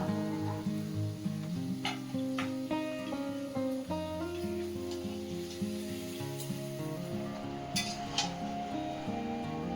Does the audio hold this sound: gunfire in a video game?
no